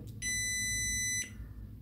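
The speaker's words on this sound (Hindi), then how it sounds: "ये 3 सेकंड बीप किया, ऑन हो गया" A JK smart battery management system (8S, 200A, Bluetooth) powers on with one steady, shrill electronic beep lasting about a second, loud and alone over a low hum.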